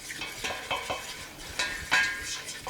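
Flour being cooked in a pan over medium heat: a steady soft sizzle with repeated scraping and stirring strokes of a utensil against the pan, fairly close, with no talk.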